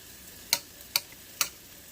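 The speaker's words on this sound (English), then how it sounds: "run a fork through it, make it nice and sponjadito, spongy" Three light, evenly spaced scrapes of a fork fluffing freshly cooked Spanish rice in a pot, crisp and close with quiet gaps between them.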